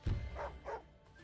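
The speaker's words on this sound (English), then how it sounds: "Bark, bark." Two short barks from a dog unit in the strategy game Wargroove, in quick succession over a low game-music bed, followed by a brief quieter tail.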